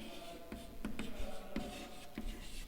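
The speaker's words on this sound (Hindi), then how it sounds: "यहां तक मिटा रही हूं, आगे लिखेंगे" Writing being wiped off a board comes through as faint, rhythmic rubbing strokes, about five short swipes spaced roughly half a second apart, quiet and close.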